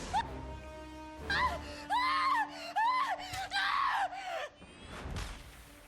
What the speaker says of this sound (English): People screaming for their lives and annihilated